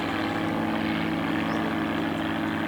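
An RAAF CT-4A propeller aircraft drones loudly and steadily overhead during an airfield display, its engine buzz continuous and close without talk.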